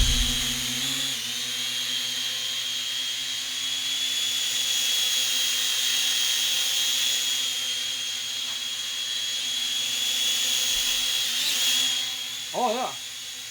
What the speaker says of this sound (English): That's actually very stable for a drone.